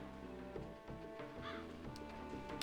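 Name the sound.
bird cawing in video game Breath of Fire 4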